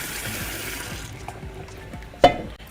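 Water poured into a bowl at a kitchen sink, a continuous splashing rush that fades partway through, followed by a short clatter.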